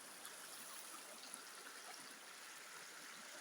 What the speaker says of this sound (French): C'est très bon d'écouter l'eau clapotis dans un langage clapotique